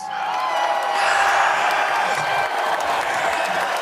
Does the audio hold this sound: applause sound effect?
yes